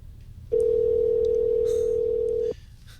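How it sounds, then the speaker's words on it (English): A telephone ringback tone sounds as a single steady, clean hum lasting about two seconds, starting and stopping abruptly over faint background noise. "Here's a ringback tone."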